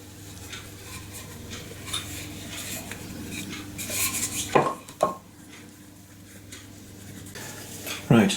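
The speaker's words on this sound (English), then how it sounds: "we'll just give that a quick mix up" A spoon mixes apple pie filling with ground cinnamon in a bowl, a soft, continuous stirring rub with a few sharper scrapes and knocks against the bowl, close by.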